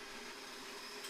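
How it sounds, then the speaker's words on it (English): A coffee grinder whirs in the background, a faint steady motor buzz heard alone for about a second. "Sorry, that was the coffee grinder. You probably heard that in the background"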